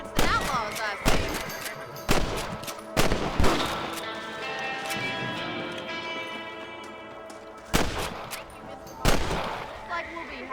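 Sharp gunshots ring out while hunting rabbits in Red Dead Redemption, about seven loud cracks spaced irregularly, with musical score and voices in the background.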